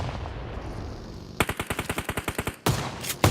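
Automatic gunfire in PUBG Mobile during a competitive match: a rapid burst of about a dozen evenly spaced shots, loud and close, followed by another short burst after a brief gap.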